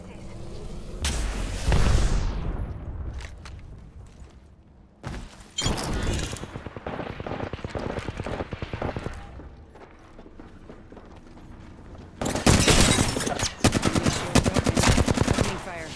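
Loud, close automatic gunfire in a video game, coming in several long rapid volleys separated by quieter stretches with other game sounds in between.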